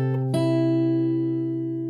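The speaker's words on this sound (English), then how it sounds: "So now you have the open B string." Acoustic guitar in fingerstyle playing, with the open B string plucked alongside ringing lower notes: one clear attack after a soft lead-in, then a steady sustained decay, close and solo.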